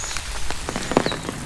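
Rain falls on a hiking path up an oreum in a Jeju arboretum, a dense, close patter of drops with a few sharper hits and no voices.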